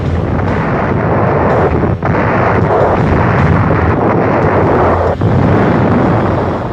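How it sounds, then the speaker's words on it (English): Large Coast Artillery guns firing shells up to 16 inches across, heard as a continuous loud roaring blast with brief dips, dense and overwhelming throughout. "The guns of the Coast Artillery were consistently some of the largest and most powerful, firing shells up to 16 inches in diameter, which weighed almost a ton"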